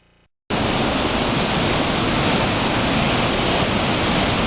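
An underground river rushes through a canyon, a loud, steady roar of churning water that cuts in abruptly after a brief quiet moment and stays constant to the end.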